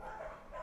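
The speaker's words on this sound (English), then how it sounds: "the dogs is making noise" Dogs barking and yipping in the background, a short faint burst of two yelps set apart by a brief pause, distant and low in level.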